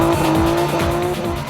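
Race car tires squeal loudly and continuously as a car skids, a sustained high screech over engine noise, close and without talking.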